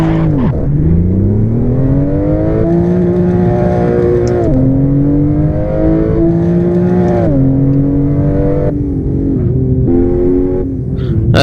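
A Mercedes-AMG GLE63S engine in a racing video game, revving steadily and loud for the whole stretch, its pitch climbing and dipping through gear changes with a continuous rich harmonic drone.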